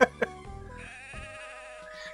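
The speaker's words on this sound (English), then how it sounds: "The sheep are milling about restlessly" Sheep in the Mother 3 video game bleat in two short, sharp cries near the start, followed by softer game music and ambient tones that continue quietly.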